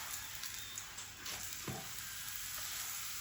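A radish and spinach paratha sizzles steadily on a pan over a low flame, a soft continuous frying hiss with faint stirring or handling clicks near the middle and no talking.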